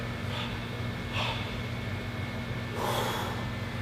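Big forceful exhales during an ab exercise at home, three short breathy bursts spaced about a second apart over a faint steady hum.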